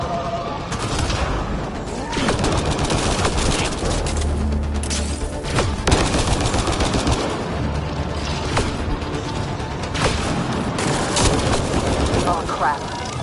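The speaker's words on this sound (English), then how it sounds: "Heavy artillery! Watch out!" Heavy artillery fire in the video game Mass Effect: Andromeda, a relentless barrage of booms, gunfire bursts and explosions, loud and sustained throughout, with combat voices mixed in.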